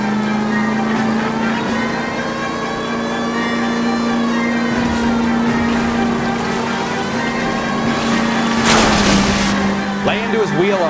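Car chase driving in the video game L.A. Noire, with a steady engine drone and rising revs, a sharp crash or skid near the end, and voices shouting over it.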